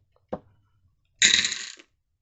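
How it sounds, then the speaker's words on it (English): Dice tossed once: a short clatter, then after a pause a brighter rattling roll of about half a second that settles to a stop, close and moderately loud in an otherwise quiet room. "Let's roll the dice."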